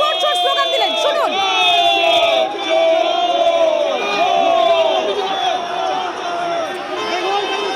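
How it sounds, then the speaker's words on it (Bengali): A dense political crowd outside the CEO office in a packed scene with the opposition leader, shouting and chanting slogans in loud, overlapping voices with rising whoops and cries, close and continuous. "পাল্টা তাদের উদ্দেশ্য স্লোগান দিলেন বিরোধী দলনেতা, তিনিও পাল্টা তাদেরকে চোর চোর স্লোগান দিলেন"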